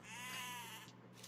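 Sheep bleat in the Age of Empires strategy game, a single drawn-out wavering bleat lasting about a second, loud and clear, followed by quieter game ambience.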